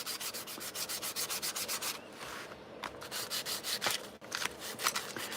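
Biodegradable paint on a paper model is sanded in quick, steady back-and-forth strokes, a dry rasping rhythm with a brief pause before resuming.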